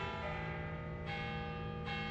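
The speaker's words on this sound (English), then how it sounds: "The largest and most often rung bell is Saint Thomas." A large church bell named Saint Thomas rings at a Kansas City church, its rich sustained tone humming with overtones as a fresh strike lands about every second, clear and alone.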